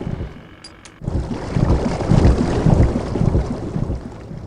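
A submarine driven by an octopus in the video game Grim Fandango, heard as a sudden surge of loud churning water and rushing motion noise after a brief quiet start with a couple of faint chirps.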